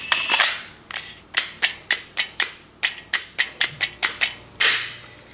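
Sharp metallic clicks and snaps around an HK VP9 pistol with an HKparts 18-round magazine, a dozen crisp close hits in an even rhythm with a louder clack at the start and end, no talk.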